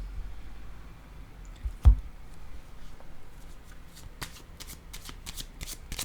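Tarot cards shuffled and drawn, a soft rustling and flicking with one sharp slap, followed by a run of crisp card snaps near the end, close and alone.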